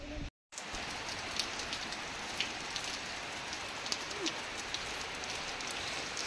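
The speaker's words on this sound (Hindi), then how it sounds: "गाँव में वर्षा होची" Rain falls steadily in a village, a constant soft hiss of drops on surfaces with scattered louder patters, while a dove coos faintly in the background.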